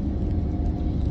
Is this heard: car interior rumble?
yes